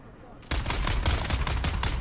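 Rapid automatic gunfire from the video game Dune Awakening erupts after a brief quiet moment, a dense, loud rattle of repeated shots that continues to the end.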